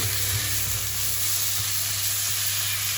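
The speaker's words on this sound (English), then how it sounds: "Then you put the thinly sliced beef in." Thinly sliced beef hits hot garlic in a pan, giving a loud, dense, continuous sizzle with a few stirring scrapes and no voices.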